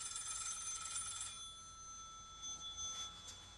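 A bat phone rings with a bright electronic trill, loud at first and then fading to softer, intermittent tones.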